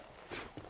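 Horse hooves in the Western video game Red Dead Redemption, with a couple of soft clip-clop steps over a brief stretch of background ambience.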